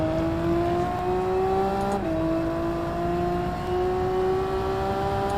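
Race car engine in Gran Turismo 7 holding a steady high drone, with a brief dip in pitch as it dives aggressively into a corner at Suzuka, then climbing smoothly again; continuous and loud with no talk.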